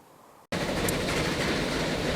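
A train rolls along in the Transport Fever 2 game: after a brief moment of near silence, a steady, loud rumble cuts in abruptly and continues without a break.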